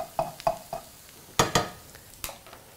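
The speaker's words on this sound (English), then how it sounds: "I'm now going to turn my rosties just very carefully so that they don't fall apart onto the other side" Parsnip rosti are turned in a frying pan: quiet, separate clinks and scrapes of a utensil against the pan, a few spaced taps and two sharper knocks, over a faint sizzle.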